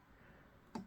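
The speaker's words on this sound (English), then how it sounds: "You kind of have to click quite purposefully in the corner to right click." A single sharp click from the trackpad of an HP Pavilion 15 laptop (model 15-p078na), pressed firmly in the corner, brief and close against a quiet background.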